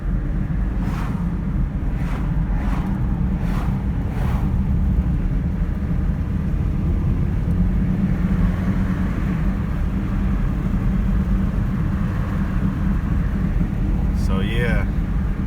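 A 1991 Toyota Corolla with 26K original miles is driven fast, its engine and road noise a steady loud rumble under heavy wind buffeting, with a voice talking over it.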